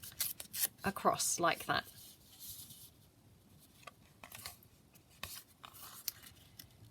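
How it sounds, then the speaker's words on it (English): Scrapbook paper torn by hand in a few quick ripping bursts near the start, close and crisp, followed by quieter rustling and handling while someone talks throughout. "So I'm just going to tear this"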